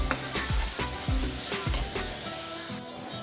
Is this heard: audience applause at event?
no